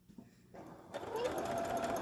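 A sewing machine starts up partway through and runs with a steady, rising whir as it back stitches a three-layer fabric face mask, close by after a brief quiet opening.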